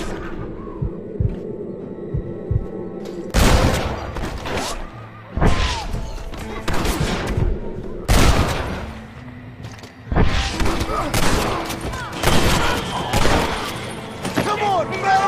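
Gunfire from the video game Red Dead Redemption, loud sharp bursts and volleys breaking out in clusters against a low background rumble, with voices talking among the shots.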